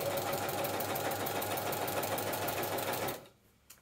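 Domestic sewing machine fitted with a walking foot, stitching stretch fabric with standard thread on a long straight stitch: a steady, loud, fast rattling whir for about three seconds that then stops, followed by a faint click.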